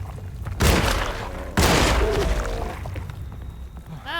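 Two loud, close gunshot blasts about a second apart in Alone in the Dark (2024), each trailing off into a long, booming decay.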